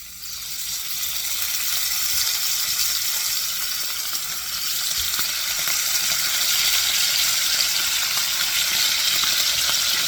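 Liver sizzling in a hot frying pan, Portuguese-style sauté, a steady hissing crackle throughout with no pauses.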